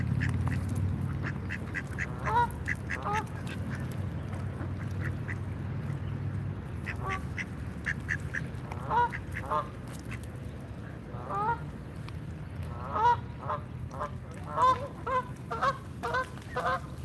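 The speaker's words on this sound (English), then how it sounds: "I got another land duck." Ducks quack and honk repeatedly in short irregular bursts over a steady low rumble of traffic and crowd noise outdoors in Washington, DC.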